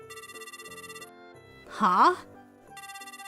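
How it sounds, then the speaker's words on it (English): A mobile phone rings with a repeating electronic ringtone melody, paused briefly while a voice makes a short questioning sound. "My phone rang and it was Kanako-san, the wife of my brother-in-law."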